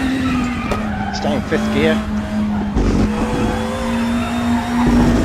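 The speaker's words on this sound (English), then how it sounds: "we're going to brake later in the Audi" Audi DTM 92 race car in Raceroom braking hard and sliding, with a steady engine drone and tyre squeal running underneath someone talking.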